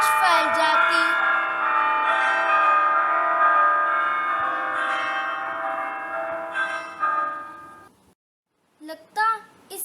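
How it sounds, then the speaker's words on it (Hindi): A bell rings at a tall church facing Jakhu hill, with a loud, resonant tone that hangs and slowly fades for about eight seconds before a short pause and a few brief, softer sounds. "चर्च की घंटियां बजती तो दूर दूर तक उनकी गूंज फैल जाती।"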